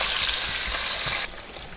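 Vegetable stock poured into a small pot over squash and charred onion, a steady bright liquid rush and trickle that cuts off abruptly near the end, moderately quiet.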